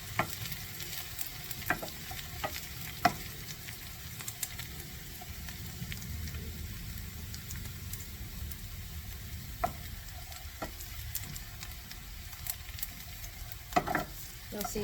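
Shallots sautéing in oil in a pan, a soft continuous sizzle broken by the clicks and scrapes of stirring, fairly quiet with no voices.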